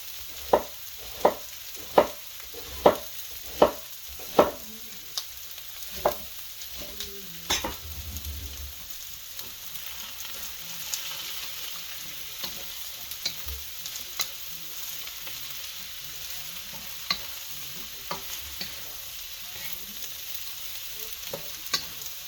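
Bacon, sausage and cabbage fry in a pan, a steady sizzle broken by a quick run of sharp scraping stirs near the start and scattered clacks of a utensil after, close and fairly loud, with no voices.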